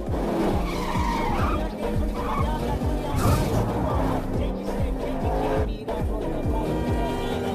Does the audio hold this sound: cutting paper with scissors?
no